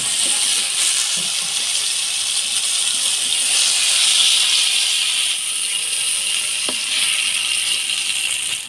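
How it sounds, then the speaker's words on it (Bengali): Eggplant fries in hot oil with a steady, bright sizzling hiss that stays even and fairly loud throughout, and no one talking over it. "বেগুনটা হালকা ভাজে নিলাম, এবার তুলে নিব।"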